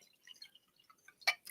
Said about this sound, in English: I'm going to take this original cup, and I'm going to pour it into my new reality cup